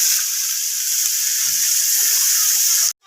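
Dam fish frying in a pan with a steady, loud broadband sizzle that holds constant throughout, then cuts off abruptly near the end before briefly resuming.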